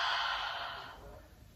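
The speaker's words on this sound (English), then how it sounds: "So in through the nose and exhale," A single cleansing exhale through the mouth during a yoga session, a close breathy whoosh that fades over about a second.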